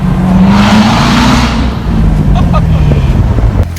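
A 2017 Corvette Z06 downshifts and revs beneath a bridge, its engine note swelling loudly and then dropping back as it echoes off the underpass, close and continuous.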